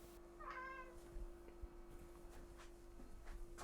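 A hungry house cat gives a single rising meow close by in a quiet room, with a faint steady electrical hum underneath and small indistinct household noises afterward.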